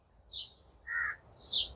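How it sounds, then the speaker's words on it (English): Birds calling near the sea: three short, clear chirps in quick succession at moderate distance over a soft, steady background hush, with no talking. "The sound we hear in the background of the birds"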